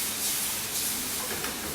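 A steady, close, broadband sizzle and hiss from tomato and basil sauce cooking in a pan, holding constant for the whole stretch with no voices.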